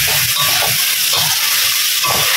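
Beef frying in a pan as Holland onions and bird's eye chilies go in and get stirred, with a steady loud sizzle and hiss and a few soft scraping stirs underneath.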